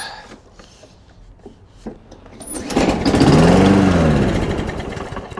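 A small auction lawn mower engine being started: quiet scattered clicks and handling noises, then the engine catches and runs loud and steady close by, its pitch rising and falling as it settles.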